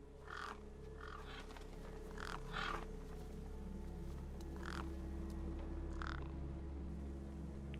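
Harsh crow-like caws from birds in the video game Beyond a Steel Sky, repeating in short bursts over a steady low mechanical hum, moderately loud and fairly near.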